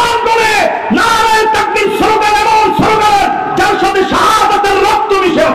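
A large crowd at a Bangla religious sermon chants the Takbir slogan, loud repeated call-and-response shouts in a steady rhythm of about one burst per second.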